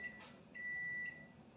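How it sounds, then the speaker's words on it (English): A kitchen timer signals that shrimp has finished cooking, giving a few thin, high electronic beeps: one short, then a longer sustained tone and another starting. It sounds moderately faint against quiet room ambience. "That is my timer telling me the the shrimp and stuff is done"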